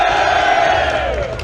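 A large crowd at a vaping expo presentation in Britain roars and cheers loudly with sustained shouting, a dense wall of voices that eases slightly toward the end.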